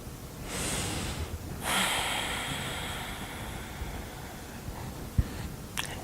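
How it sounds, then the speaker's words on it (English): Two long, deep breaths are drawn in through the nose, airy and close, each lasting about a second, followed by quieter breathing and a small click near the end; no speech. "Just breathing in"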